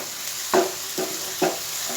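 Sliced onions and green chillies fry in a pan with a steady sizzle, broken by three soft scraping stirs at roughly even intervals, close and moderately quiet.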